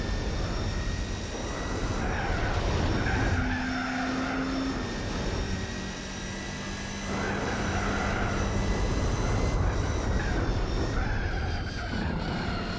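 A race car in Gran Turismo 4 drones along with a steady, loud engine roar, its pitch shifting with gear changes and acceleration throughout.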